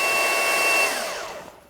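A DeWalt DCW220 20V XR 3x21-inch cordless belt sander runs with a steady, loud broadband whoosh of moving air and motor whine, then spins down over the last second and fades toward quiet.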